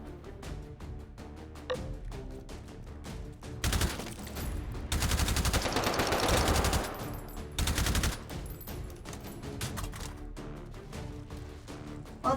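Gunfire in the VR shooter H3VR, in its Take & Hold mode: dense bursts of rapid shots crowd the middle of the stretch, loud and close, over a steady musical background.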